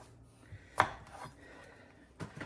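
A knife cuts potatoes on a board while a Greek lemon chicken is prepared: one sharp chop, then scraping and a second softer cut, heard close and quiet.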